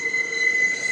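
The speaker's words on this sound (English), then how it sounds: "I live by the train, so forgive me" Train passing close by with a loud, sustained high-pitched squeal of wheels on rails, steady and piercing for the whole moment with a rumbling undertone.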